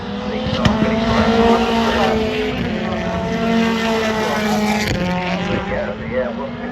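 A touring car races past on a circuit, its engine loud and close with a sustained drone that shifts pitch, and a tyre squeal briefly cuts through.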